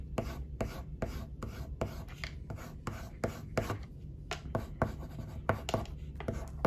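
A pencil shades on paper while drawing cat fur, working it into the paper's tooth with steady, evenly spaced scratchy strokes that repeat close and quiet, with no voice.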